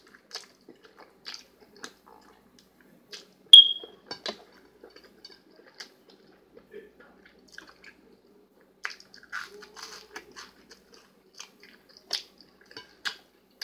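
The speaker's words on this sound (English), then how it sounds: "let me get another bite because it's just so delicious" Close-up mouth noises of someone biting and chewing mushrooms at a mukbang-style dinner: soft wet squishes, small crunches and clicks scattered irregularly over quiet pauses, with one sharp utensil tap.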